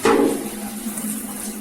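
Water runs from a tap in a bathroom where motorcycle gear is being washed, a loud gush at first that settles into a steady splashing flow.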